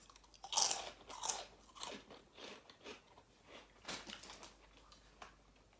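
Crunchy fried halloumi fries with chilli being bitten and chewed close to the mic, a run of loud crisp crunches that ease into softer, irregular chewing and smacking.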